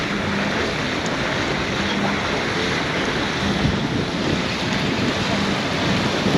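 Broad steady rush of the Nairobi River flowing through a slum, constant and fairly loud outdoors with wind buffeting the microphone, no voices, a continuous wash without distinct events.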